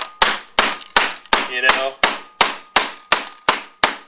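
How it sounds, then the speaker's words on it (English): A large knife being used as a hammer to tap computer parts into place, about eleven sharp, evenly spaced knocks ringing close and loud, with a brief spoken aside partway through. "then you just want to take the giant African knife and just kind of hammer it"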